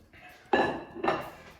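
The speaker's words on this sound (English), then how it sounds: "I've got a nice deep pan here, which I will put the gammon joint in" A gammon joint is set down into a deep metal pan with two close, heavy clunks about half a second apart, ringing briefly.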